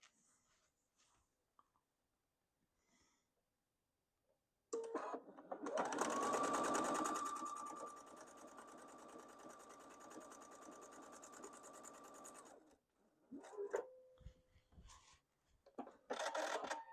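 A sewing machine stitches a quilt top, starting around five seconds in and running fast and steady for several seconds with a rising whir, then stopping; a few light handling clicks come before and after.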